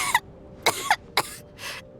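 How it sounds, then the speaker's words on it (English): A character named Tonya coughs in Genshin Impact, a series of four or five short, raspy coughs in an irregular rhythm, close and fairly clear with no talk over them. "How long have you had that cough, Tonya?"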